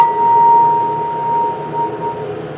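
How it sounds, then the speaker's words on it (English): A single steady B-flat tone chime note rings out alone, clear and fairly loud, slowly fading over a couple of seconds. "Here is the tone chime,"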